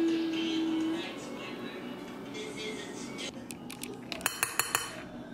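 Potato salad of potatoes, egg, onion, celery, sweet relish and Hellmann's mayo is stirred in a bowl at home, a soft scraping that gives way to several sharp utensil clinks against the bowl near the end.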